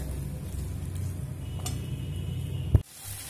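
Chickpea dal fries in a pan with spices and coconut for a Bengali taro-leaf dish. A soft, steady sizzle runs with stirring scrapes and ends in a sharp clank of a utensil against the pan, then goes quieter, with no talking.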